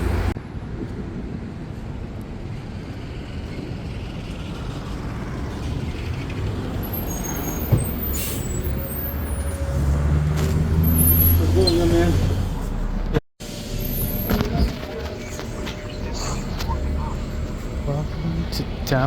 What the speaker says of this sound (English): Alright, we're here. The Dash bus stop.